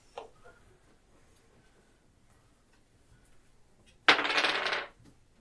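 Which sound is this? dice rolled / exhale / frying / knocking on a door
dice rolled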